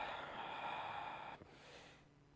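A slow, deep inhale through the nose during a yoga session, soft and close. A brief pause follows, then a quieter breath out, set against a faint room hiss, with no one talking.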